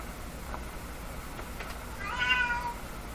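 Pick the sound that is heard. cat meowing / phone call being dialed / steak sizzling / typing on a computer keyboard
cat meowing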